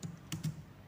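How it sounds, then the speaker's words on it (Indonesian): A few soft, close clicks of computer keys as enter is pressed in accounting software, quiet and brief, with no talking. "untuk lanjut ke bawah kita tekan aja enter di keyboard"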